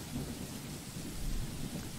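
Heavy rain pours steadily outside a mansion while deep thunder rumbles continuously underneath, a dense, even roar of downpour with no voices.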